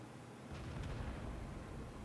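A Centurion tank's 20-pounder gun firing in World of Tanks, one dull muffled boom that rises quickly and lingers as a low rumble, faint and distant.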